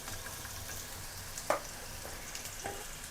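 Potatoes and onion stalks frying in a pan, a soft steady sizzle running throughout with a couple of faint stirring clicks, nobody talking.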